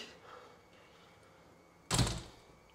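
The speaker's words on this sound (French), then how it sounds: "on est embêté avec la porte qui frotte" An interior door with adjustable three-dimensional hinges catches on its frame, giving a single loud, short scraping thud after a quiet stretch of room tone.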